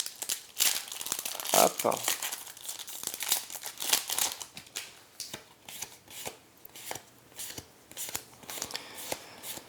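Crinkling foil wrapper of a Magic: The Gathering War of the Spark booster pack torn and crumpled open up close, followed by cards shuffled and flicked in irregular bursts, with a brief spoken word.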